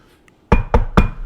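Three sharp, loud knocks on a locked door, evenly spaced, close by and unaccompanied by any voices after a brief quiet pause.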